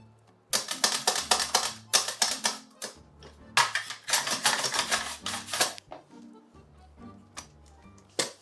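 A knife slicing through potatoes for gratin dauphinois, making quick bursts of sharp, rhythmic cutting clicks in steady runs with short pauses, close and fairly loud.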